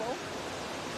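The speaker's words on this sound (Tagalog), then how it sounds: "Lakas ng rumaragas ang tubig mga kapsat" Strong, fast-flowing river water rushing through a canal, a loud, dense, continuous broadband roar with a brief voice just audible at the start.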